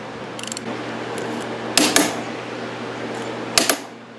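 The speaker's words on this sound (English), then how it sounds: "And you take your torque wrench up on there, get it up on there" A torque wrench tightening the rear sprocket bolts on a WR450 dirt bike gives two pairs of sharp metallic clicks, close and distinct, over faint background hum.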